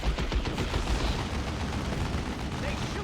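Burner bomb attack in Warhammer 40k: Dawn of War 2, a 1v1 match with a Mekboy against a Force Commander, heard as dense crackling bursts and low booms that keep going throughout, with faint voices mixed in.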